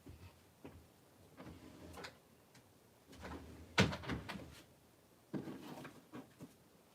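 Wooden drawer being pulled open and pushed shut, a few brief knocks and thuds with one sharper clack in the middle, close by in a quiet room.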